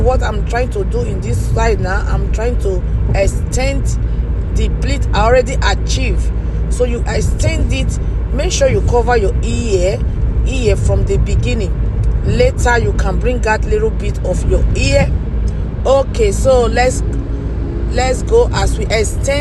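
Steady road and engine rumble inside a moving car, continuous low drone with passing traffic, running throughout beneath someone talking at length.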